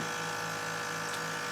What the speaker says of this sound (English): we got to pull a vacuum on both these guys